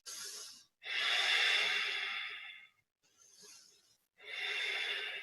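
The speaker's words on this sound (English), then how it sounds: "We're here for 2 more cycles of breath" Slow, deep breaths taken while holding a yoga warrior pose, heard as long airy inhales and exhales close up and alone, with short silent gaps between them.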